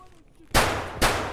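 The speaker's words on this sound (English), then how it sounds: "Yeah, that sounded like a pistol." Two sharp pistol shots in Escape from Tarkov, about half a second apart, each a loud broadband crack with a short decaying tail, following a quiet stretch.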